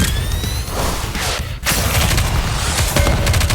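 Dense, continuous gunfire from the mobile shooter game Nikke: Goddess of Victory, loud rapid automatic shots and booms running steadily throughout with a brief dip midway and no talking.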